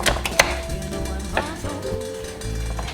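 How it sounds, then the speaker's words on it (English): A knife chops the ends off celery on a cutting board, a quick run of sharp close knocks followed by a few more spaced strikes, with no voices. "We're gonna chop off these ends here."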